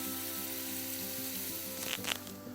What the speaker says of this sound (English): we're gonna saute this just enough where they're translucent